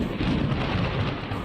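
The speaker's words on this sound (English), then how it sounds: "We're in survival and it immediately starts to rain as we get near." Steady heavy rain with a low thunder rumble in the Minecraft Bedrock RealismCraft survival world, a dense continuous wash that sounds close and fairly loud, with no voices.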